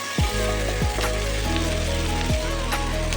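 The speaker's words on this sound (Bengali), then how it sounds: "দিয়ে দেবো দুটো কুচিয়ে রাখা টমেটো এটাও একটু ভেজে দেবো" Chopped tomatoes and onions fry in a pan with a steady, dense sizzle throughout, close and loud, with a few faint knocks from the utensil and no voices.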